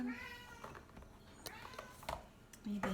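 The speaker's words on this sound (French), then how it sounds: "Mon chat veut sortir." A pet cat meows near a doorway, wanting to be let outside, its short cries rising over quiet background talk and small household noises.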